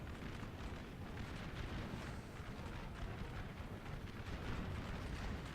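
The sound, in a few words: artillery fire in the video game Napoleon Total War mod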